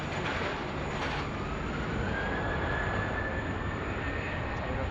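Airliner taking off from runway 16 right at Sydney Airport during a thunderstorm, a steady broadband engine roar holding at constant loudness throughout, with no talk over it.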